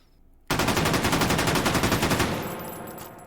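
An FAL rifle fired fully automatic in H3VR, a sudden loud burst of rapid, evenly spaced shots lasting nearly two seconds, then a ringing echo that slowly fades, with no talk.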